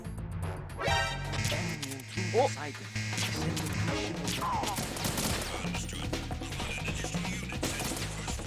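Gunfire in Metal Gear Solid 2, a busy mix of rapid shots, crashes and impacts layered over game music and effects, with someone talking over much of it.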